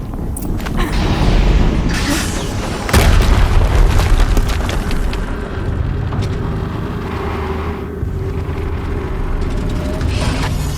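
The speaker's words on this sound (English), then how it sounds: "Another explosion." Explosions go off in Horizon Zero Dawn in a loud, heavy, rumbling mix of deep booms and mechanical clatter, with one big blast near the middle and a steady roar running throughout.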